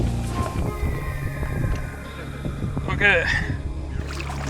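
Kayaks setting off on a Copenhagen canal, with a boat-like water rumble and wind under steady nearby talk from the group of paddlers.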